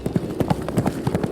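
Hooves of horses fleeing at a gallop clip-clop in quick, regular beats, close and fairly loud, with a faint voice in the background.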